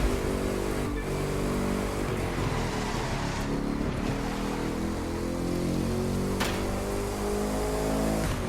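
A car speeds along an open road in the driving game The Crew 2, its engine a loud, steady drone with sustained harmonic tone and slight pitch shifts, continuous throughout with no talking.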